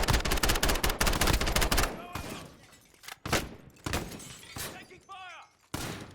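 Video game gunfire: a dense burst of rapid automatic shots up front, then scattered single cracks and impacts at irregular intervals, close and loud, with speech breaking in between.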